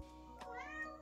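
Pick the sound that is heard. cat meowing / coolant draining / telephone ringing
cat meowing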